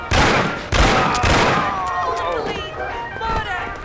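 Gunfire in the Mafia video game during a restaurant ambush: several sharp, loud shots and bursts in quick succession up front, then ringing echoes and scattered fainter shots as the volley trails off.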